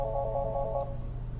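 A Polycom desk phone rings with an incoming blind-transferred call: a bright electronic warble pulses in short bursts for under a second, then stops, leaving a quiet background.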